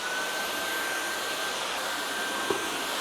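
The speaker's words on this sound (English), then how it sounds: "Now I'm going to vacuum the floors." A vacuum cleaner runs steadily across household floors, a constant whining roar at close range with a single brief bump near the end and no talk.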